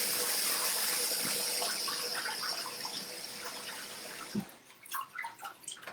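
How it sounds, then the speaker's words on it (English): Hands washed under a running kitchen tap, a steady rushing stream of water that fades and then breaks into irregular splashes and rubbing as the flow stops, fairly quiet, no talking. "So I'm going to wash my hands really quickly."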